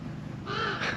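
A raven caws at a campground, a couple of harsh rasping calls rising over a low windy background rumble.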